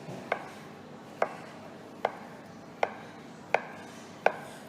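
A knife slices through a log of rolled cheese scrolls on a board, six crisp chopping knocks spaced roughly evenly apart, close and clear over a quiet background.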